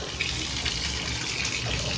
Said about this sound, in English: let the water fill up over the pants